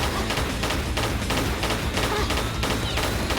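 Rapid gunfire from shooters in a Tomb Raider level editor game, a loud continuous volley of shots and thuds with no pause, with no talking over it.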